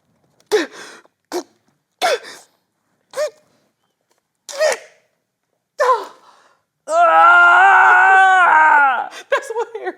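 Harry lets out a long, loud, sustained scream near the end, following a series of short vocal bursts, gasps and sharp exclamations spaced through the moment.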